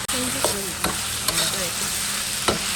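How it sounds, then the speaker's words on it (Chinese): Onion and green chili stir-fried in a wok, a steady sizzle punctuated by several sharp scraping clicks of the utensil, with faint voice-like tones underneath. "下入洋葱和青辣椒"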